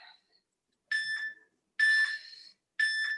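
A workout interval timer beeps during a bootcamp exercise session: a faint chirp, then three loud, sustained electronic beeps spaced about a second apart, with silence between them.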